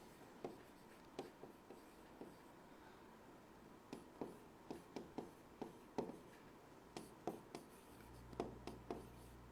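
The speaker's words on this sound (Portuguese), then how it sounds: "deixa eu ver se eu consigo escrever aqui" Handwriting on a board before a talk, a marker or chalk producing a run of short scratchy strokes in irregular bursts, close and moderately loud, with no voices over it.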